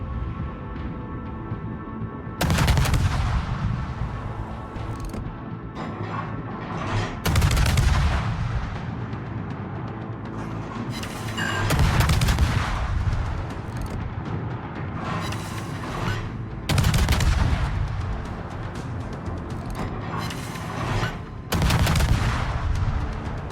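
Naval gunfire from a French Mogador destroyer in World of Warships, heavy booming salvos that arrive every few seconds in a repeating rhythm and ring out over a constant low engine and sea rumble, loud and close, with no voices.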